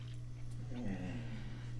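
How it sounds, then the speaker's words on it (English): A pet dog whines softly indoors, eager to go out for a walk, a faint high wavering whimper over a steady low household hum, with no one talking. "I don't know if you can hear my dog whining."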